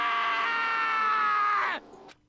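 A shrill, drawn-out scream cries out in the Danganronpa video game, holding steady for nearly two seconds before breaking off and falling away into quiet.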